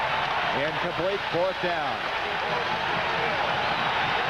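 A stadium crowd at a 1982 Nebraska versus Penn State college football game in Beaver Stadium keeps up a steady roar of cheering beneath a play-by-play announcer's voice.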